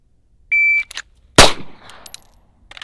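Single sharp pistol shot from an STI DVC Open competition handgun drawn from the holster, one loud crack with a short decaying ring, preceded by an electronic timer beep.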